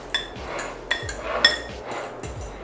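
Banana bread ingredients stirred in a bowl, with repeated clinking knocks of a utensil against the bowl at an uneven pace, close and moderately loud with no talking.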